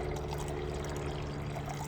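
Cooked natural dye liquid full of little bits of pulp pours into a pan, a steady, close, continuous splashing stream with no voices.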